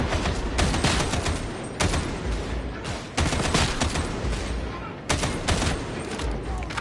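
Repeated volleys of loud weapon fire from the grimdark shooter game Darktide, bursts of rapid shots broken by brief pauses across several seconds.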